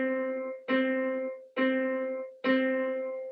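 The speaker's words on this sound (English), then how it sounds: "Now we will play C note four times." Piano sounding a single C note four times at an even, moderate pace, each strike clear and decaying before the next, fairly quiet and without voices.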